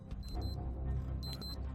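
In-game alarm clock in Project Zomboid ringing with repeated electronic beep bursts in two clusters over a steady low rumble.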